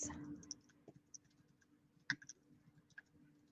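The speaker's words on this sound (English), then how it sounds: "let me go ahead and I will type in the email address" Keys click on a computer keyboard as an email address is typed, a quiet, sparse run of light taps and ticks with uneven gaps between strokes, close by in an otherwise hushed room.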